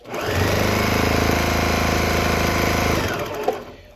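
A sewing machine top stitching through a store-bought quilt, running in one steady, loud, close whir for about three seconds before stopping, alone with no voices.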